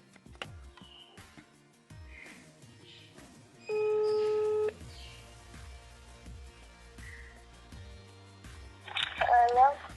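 A phone call being placed, with a steady busy-style tone and beeping dial signals heard over a handset, mixed with a speaking voice and background chatter throughout.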